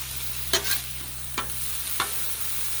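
Beef fried rice fries on a Blackstone griddle with a steady, even sizzle, broken by three sharp spatula scrapes and clicks spaced through the clip.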